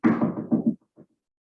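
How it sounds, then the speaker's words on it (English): Several quick, heavy knocks on a door land in a rapid run of about six, then two fainter trailing taps, close and solid with no talk. "They all came over to her house and knocked on the door."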